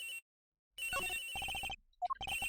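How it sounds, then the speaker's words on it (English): A cell phone ringing inside a locker in the Ace Attorney Investigations video game: a bright electronic ringtone in clipped bursts of quick repeated notes, broken by short silences. "The ringing's coming from in here, sir."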